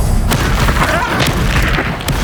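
A Confringo fire spell detonates as a string of heavy, booming blasts during a Hogwarts Legacy duel, the explosions continuous and loud throughout with dense rumbling low end.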